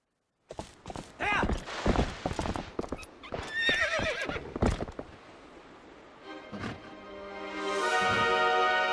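A horse gallops in The Legend of Zelda: Twilight Princess HD, hooves clip-clopping in a fast, steady rhythm with whinnies and neighs breaking through, loud and close, before shifting into a sustained tonal swell at the end.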